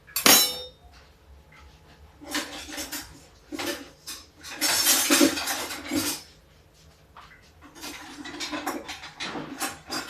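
A non-stick pan is handled in a home kitchen, giving intermittent clinks and clatters of metal against metal and cookware, some sharp and bright, spread in bursts with quiet gaps between.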